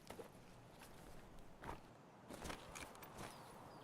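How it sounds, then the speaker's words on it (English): Several soft footsteps in the video game Escape From Tarkov, a few irregular scuffing steps spread across the clip at low volume over a faint background hum, with no talking. "I hear more footsteps."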